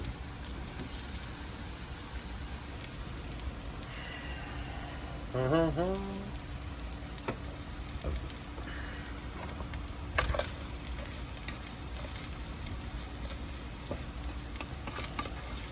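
Rice toasting in a pan before water goes in, with a steady low sizzle and crackle running throughout and occasional scraping stirs, a louder stirring clatter near the middle, while a person talks quietly in the background.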